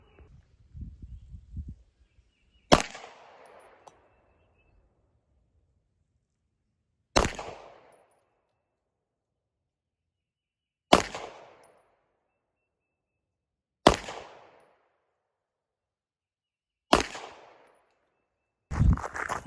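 A Walther PDP everyday-carry pistol fired offhand at 15 yards on a range: six sharp, loud single shots spaced a few seconds apart, each with a short echoing tail, and a brief low murmur before the first shot.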